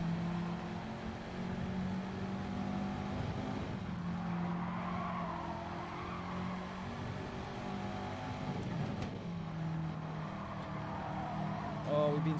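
Race car in Gran Turismo 7 spinning out during an online daily race, steady engine drone with a brief skid and tire squeal mid-race, with someone talking over it.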